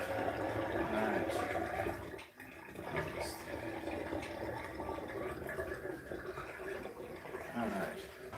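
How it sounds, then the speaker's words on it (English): Tap water runs steadily into a bowl during home cooking, a continuous splashing rush that briefly cuts out before resuming, with people chatting over it. "We get some water in here."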